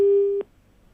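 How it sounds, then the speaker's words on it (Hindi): A telephone line's disconnect tone during a news phone call: one steady electronic beep lasting under half a second, clear and loud, then cutting off into near silence. "आशीष जी से भी लगता है हमारा फोन डिस्कनेक्ट हो गया है"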